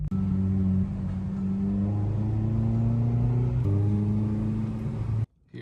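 A car rolls up with a steady low engine rumble and harmonic drone, close and fairly loud, briefly shifting pitch mid-way before cutting off abruptly near the end.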